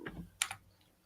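Brief keyboard typing, a few quick soft keystroke clicks in a short burst, faint and close.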